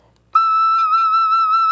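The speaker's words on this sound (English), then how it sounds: "If I play the F on the penny whistle," A penny whistle sounds a single sustained F note, starting abruptly and holding steady, loud and close, with a pure tone and bright overtones and no talking.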